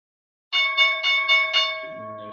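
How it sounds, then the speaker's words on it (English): A stock market opening bell rings with five rapid, resonant metallic strikes that blend into a sustained ringing tone, then fade. "And there's the bell."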